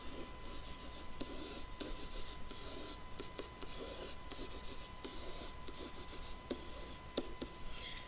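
Pen or marker scratching steadily across paper while a flowchart is sketched by hand, a close, continuous writing scrape with short strokes and pauses.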